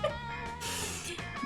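A black cat meows in the video game Monster Camp, over a busy layer of game music with a few short, close mews.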